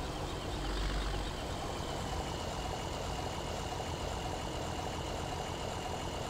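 A tractor engine idles steadily in a farming video game, a constant low rumble running unchanged throughout with no talking.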